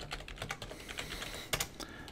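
Quick bursts of typing on a computer keyboard, the keys clicking in an uneven rhythm at close range, with one louder stroke near the end; no voices.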